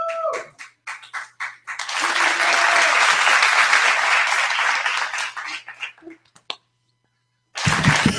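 A comedy club crowd in Tampa breaks into loud applause for comedian Gwiggy, beginning with a few scattered claps that swell into a dense, sustained ovation, then thin out and stop before a voice booms over the room.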